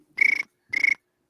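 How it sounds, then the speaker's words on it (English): A cricket chirp sound effect plays as two short buzzy pulsing trills, close and clear, with a brief gap between them and no talking over them. "Do the cricket sound."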